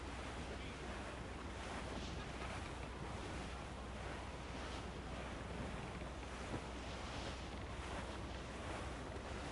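Ocean waves and wind surround a sailing ship at sea in Assassin's Creed IV, a steady rushing wash of surf with gusting wind noise, continuous and fairly soft, with no talking.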